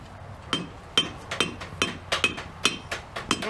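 A blacksmith's hammer rings against metal at a frontier camp forge, about ten sharp, bright strikes in a steady back-and-forth rhythm, close and clear with no talking.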